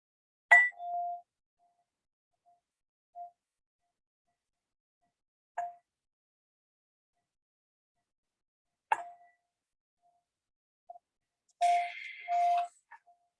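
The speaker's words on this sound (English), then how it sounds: "Chiming the bowl now." A meditation bowl is struck several times in a quiet room, each strike giving a clear, ringing tone that fades quickly, spaced seconds apart, with a longer cluster of rings near the end.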